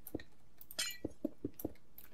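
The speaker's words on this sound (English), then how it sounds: "Then we also put down some glass here on the side to close it." Soft, evenly spaced clinking taps of glass blocks being placed one after another in Minecraft, a quiet rhythmic series of about six light clicks with a brief brighter glassy sound in between.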